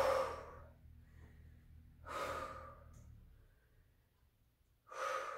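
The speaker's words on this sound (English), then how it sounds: "Keep breathing here. So easy to hold our breath when we're doing things like this. So nice deep inhales and exhales." Deep breaths during a HIIT workout, three heavy breathy bursts of inhaling and exhaling spaced a couple of seconds apart, close and clear over a low hum.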